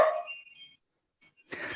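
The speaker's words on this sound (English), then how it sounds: "Sounds like the dog wants to do battle with you, Grandmaster John." A dog barks a couple of times, with short sharp yaps separated by a brief pause, heard at moderate distance with no speech over it.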